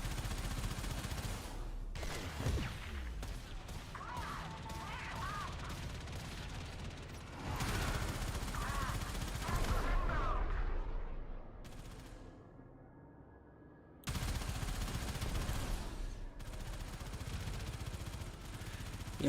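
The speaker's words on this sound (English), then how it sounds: "You need to shoot the main gun at that" Railjack main gun firing in the PC game Warframe, heard as bursts of rapid mechanical gunfire and booming shots with clanking, fading into a quieter stretch before loud firing resumes.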